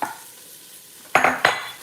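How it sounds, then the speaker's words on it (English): Carrots being chopped with a knife on a board, two sharp close chops near the end after a quieter stretch, with no talking. "I am chopping these carrots"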